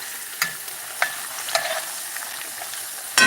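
Potatoes and onion fry in a pan turned up to high, a steady close sizzle broken by several sharp scraping and clinking stirs of a utensil.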